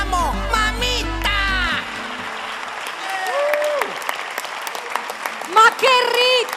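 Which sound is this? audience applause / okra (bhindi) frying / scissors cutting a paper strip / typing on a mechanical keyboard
audience applause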